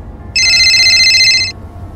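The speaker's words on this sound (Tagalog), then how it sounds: "Biglang nagring ang cellphone ni Fred sa gitna ng kanyang pagmamaneho." Cellphone ringing while someone drives: a single loud, bright electronic ring burst lasting about a second over a low car-interior rumble.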